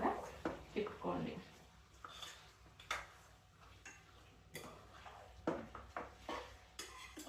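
Chilli chicken being stirred in oil in a pan, with repeated sharp scrapes and clinks of a spoon against the pan over a low background hum while someone talks.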